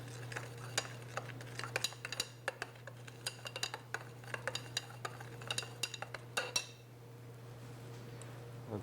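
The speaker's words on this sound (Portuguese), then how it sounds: "Vou mexer para começar a dissolver." A utensil stirs distilled water in a lab container to dissolve a solid, making a run of quick light clinks and ticks against the glass for several seconds before stopping, close and fairly quiet over a steady low hum.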